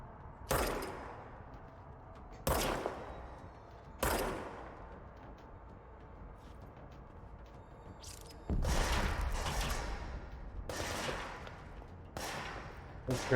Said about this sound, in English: they're shooting at me now